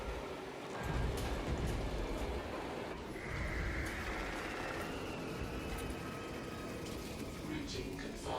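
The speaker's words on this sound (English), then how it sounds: "Train inbound. Please clear the tracks. that's how you make the train come through there." A train rumbling through in Space Marine 2, a steady dense roar of rolling rail noise that holds for several seconds, close and loud, with a faint tonal whine rising partway through.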